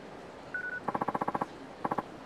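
A telephone being dialed: a short steady tone, then a quick run of about nine evenly spaced keypad beeps, a brief pause and three more beeps, clear and close.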